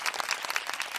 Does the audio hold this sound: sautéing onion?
no